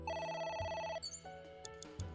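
A telephone rings in the AI: The Somnium Files video game, a fairly faint electronic ringing tone repeating in a steady pattern over quiet game background.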